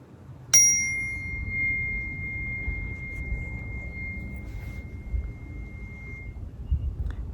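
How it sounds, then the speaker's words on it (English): A small chime rings once, bright and clear, its tone lingering and slowly fading over several seconds above a low, steady background rumble. "I'm going to play my little chime."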